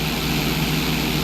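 Steady, loud propeller airplane engine drone during a stunt loop in GTA San Andreas, a continuous throbbing hum with no variation and no talking.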